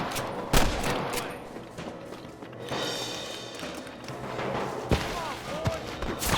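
Gunshots crack out in the Red Dead Redemption western game, with two sharp, loud reports standing out over a busy mix of scattered shots and background noise.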